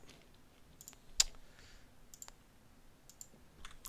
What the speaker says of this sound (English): God, I'm double clicking like an idiot.